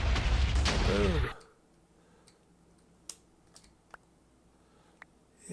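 An explosion set off by right-clicking a surface in a modded video game, a loud roaring burst that cuts off abruptly, followed by near-silence with a few faint, scattered clicks.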